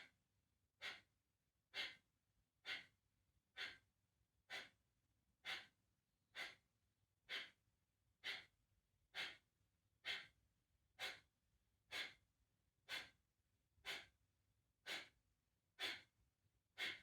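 Rhythmic yoga breathing during crow pose, about eighteen sharp, forceful breaths at an even pace of roughly one per second, close and clear against near silence.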